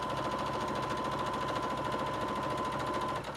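Sewing machine running steadily as it stitches together fabric pieces of a sling bag, a close, continuous rapid mechanical whir and needle clatter for about three seconds before stopping abruptly at the end.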